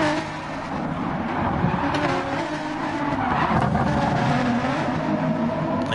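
Racing cars in a BMW M4 league race of a driving video game, engines droning steadily and loud with hints of tyre scrub as one car slides around, a continuous dense roar throughout.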